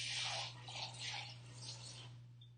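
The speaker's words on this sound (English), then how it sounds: "so I'm going to get a little bit more water." Water runs from a tap into a pot, added for cooking rice. The stream is soft and fairly close, with gentle splashing surges over a low steady hum, and there is no talk.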